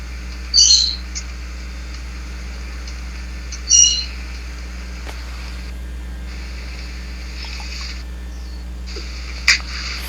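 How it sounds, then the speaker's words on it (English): A bird calls outside in three brief, sharp chirps spaced several seconds apart. The calls are moderately faint over a steady low electrical hum. "No, it's some bird outside."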